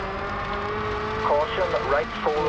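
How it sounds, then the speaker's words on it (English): A brand-new rear-wheel-drive rally car in the SLRE racing game hums at a steady pitch and then climbs and dips in short revving swells, with a voice talking over the engine. "I'm gonna let you listen to the engine of the brand new car for a little bit"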